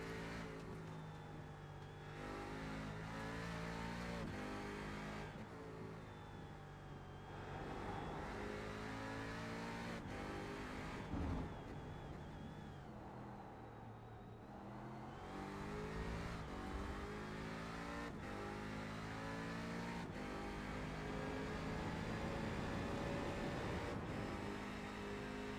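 Riley MkXX Daytona Prototype race car engine at Laguna Seca in iRacing, a steady loud onboard drone with rising and falling revs through gear shifts and corners, continuous throughout.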